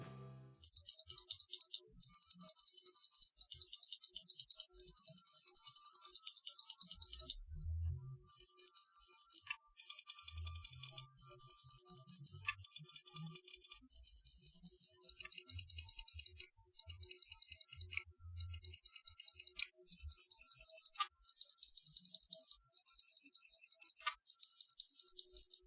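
Rapid, crisp clicks from the buttons of a Logitech G402 Hyperion Fury gaming mouse with Omron switches, tapped in quick bursts and steady runs, close and dry with no talk.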